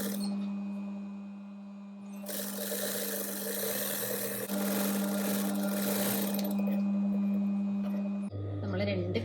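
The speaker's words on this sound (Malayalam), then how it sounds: "നമ്മൾ 2 കൈയും സ്റ്റിച്ച് ചെയ്തെടുത്തിട്ടുണ്ട്." An electric sewing machine stitches sleeves in a tailoring class, running in steady buzzing bursts with a constant motor hum, stopping and starting, close and fairly loud.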